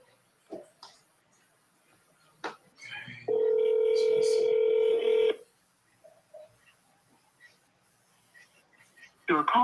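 A telephone dial tone and dialing signal sound during sales calls, a steady loud tone holding for about two seconds mid-clip, with faint clicks and brief soft voice fragments around it.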